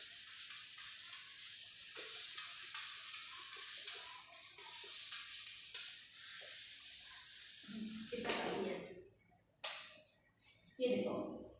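Steady scrubbing on a board as chalk writing is rubbed away in a classroom lesson, a continuous abrasive swishing followed by a few louder strokes and a brief voice near the end.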